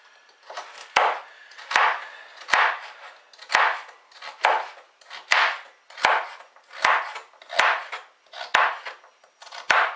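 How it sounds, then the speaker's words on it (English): A knife chops raw carrots on a board, a dozen sharp, evenly spaced knocks each followed by a short crunching slice, close and clear, with no voices. "It's usually easier to start at the thicker side of the carrot with your knife, so you kind of chop towards the other end."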